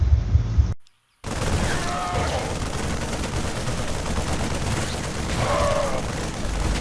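Dense StarCraft 2 gunfire as a squad of Marines trades fire around a bunker, a continuous crackling rattle of automatic shots after a brief gap, loud and steady, with a voice talking over it.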